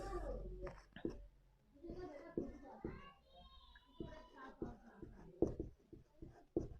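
A marker or chalk writes on a board during a chemistry lesson, with short scratchy strokes and taps interleaved with a man's speech.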